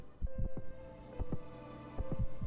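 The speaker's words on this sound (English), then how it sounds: "The enlivened heart of Nyleth beats faint and fast." The enlivened heart of Nyleth in Hollow Knight: Silksong beats in deep, paired thumps over a sustained tonal hum, several double beats spaced across the stretch.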